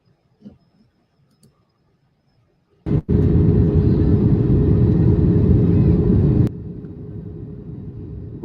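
An airplane engine in an RC flight simulator comes in to land: after a sharp click, a loud steady engine drone holds for a few seconds, then suddenly drops to a lower, quieter hum.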